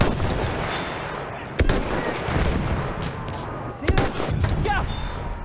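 Rifle and machine-gun fire in the video game Battlefield 1, a dense battle din of rattling bursts with two sharper, louder cracks standing out, under a constant wash of noise.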